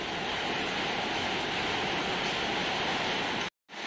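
Steady hissing rush of running water while a motorcycle chain is washed with soapy water to strip black grease, loud and continuous before cutting off briefly near the end.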